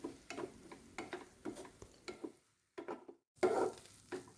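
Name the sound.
stirring vegetables with celery and scallion leaves in pan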